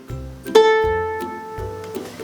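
A single bright ukulele A string plucked once, ringing out clearly and slowly fading, with a few faint softer notes around it.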